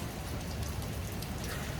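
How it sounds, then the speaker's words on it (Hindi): Steady rain falling without pause during monsoon weather, a dense even hiss of drops on surfaces, moderately loud and continuous, with no voices. "बारिश 1 सेकंड नहीं रुकी आज।"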